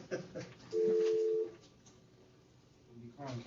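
A single steady telephone tone sounds for under a second as a board meeting dials an attorney's cell phone, with voices talking before and after it.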